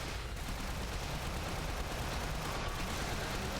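Dense, continuous assault rifle gunfire in the zombie-shooter game Shots Fired: OVERLOAD, a loud unbroken wash of shots with no pauses, no voices over it.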